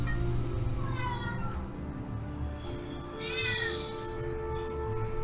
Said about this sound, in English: There's a cat in the tavern.